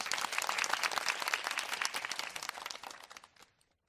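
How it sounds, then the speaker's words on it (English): Audience applause after a call to honor people for turning out in an election, a dense burst of clapping that holds steady for about three seconds, then thins and fades away to silence. "So let's give them a round of applause."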